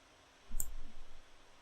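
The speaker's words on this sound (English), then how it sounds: "Clicking on Next" A single computer mouse click on an installer's Next button, one crisp, close tick with a brief faint rattle after it, alone against quiet room hiss.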